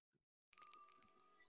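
A bell rings in the courtroom-style detective game Ace Attorney Investigations 2: a bright, sustained metallic chime that starts suddenly and hangs on with a shimmering tone, clear and fairly quiet, with no voices over it.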